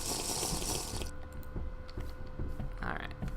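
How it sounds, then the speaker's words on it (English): Water pouring into a jug in TerraFirmaCraft, a dense hissing gush for about a second followed by quieter in-game clicks and a short bright splash near the end. "one last fill of the water jug"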